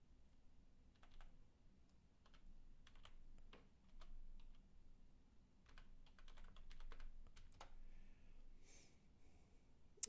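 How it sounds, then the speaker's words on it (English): Quiet typing on a computer keyboard, irregular bursts of clicking keystrokes with short pauses between, close and faint with no talking. "I typed in my LinkedIn password for that one"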